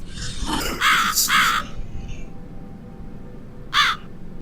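A crow in the video game The Cat Lady caws loudly three times in quick succession, then once more after a pause, over a low rumbling ambient drone.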